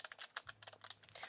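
Quick clusters of keystrokes clatter on a computer keyboard, soft and close in uneven bursts, with a faint low hum underneath.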